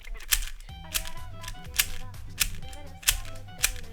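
A Shadow V2M speedcube being turned to test corner cutting, giving a steady series of sharp plastic clacks roughly every two-thirds of a second, close and crisp, with a faint low hum underneath.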